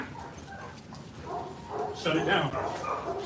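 Dogs fighting with yips, whimpers and barks, fairly close and mixed under a voice talking over the scuffle.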